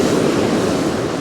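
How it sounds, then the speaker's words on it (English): Waves surging onto the shingle of Chesil Beach, a loud continuous rushing wash close by, with wind buffeting the microphone. "Gonna have to watch these waves in a minute."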